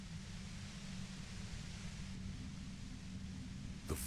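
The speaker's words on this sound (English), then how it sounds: "The violent white noise becomes even more overwhelming closer to the compressor." A compressor in the video game Disco Elysium gives off a thick, steady roar of white noise with a heavy low rumble, unbroken for several seconds before a brief rise in level at the very end.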